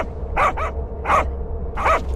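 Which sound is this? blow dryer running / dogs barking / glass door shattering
dogs barking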